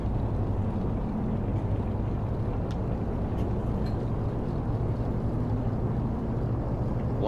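Both engines of a DC-3 in X-Plane 11 run at 1700 RPM while holding short with the parking brake on, a steady, loud, unbroken propeller-engine drone throughout with no talk.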